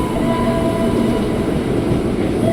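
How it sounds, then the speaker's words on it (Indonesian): A commuter train bound for Cikarang moves through Sudirman station in Jakarta, a loud continuous rumble and rattle of wheels on rail with a faint steady tonal whine throughout. "ini dia komuter lain tujuan stasiun"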